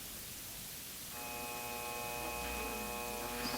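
A metal lathe set to thread mode at 12 threads per inch spins up at low speed, a steady motor whine with humming harmonics rising after a quiet start, fairly faint and with no talking.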